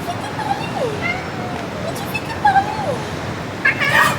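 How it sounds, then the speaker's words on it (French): A pet cat named Ninou meows several times close by, with drawn-out, wavering calls and a few sharper, higher cries near the end over a quiet indoor background. "il a fait que miauler"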